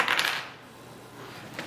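Two dice are rolled onto a board-game table, giving a quick faint clatter at the start and a lighter tap near the end amid quiet room tone.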